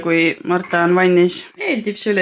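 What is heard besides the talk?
No distinct noise like a dog, phone or traffic.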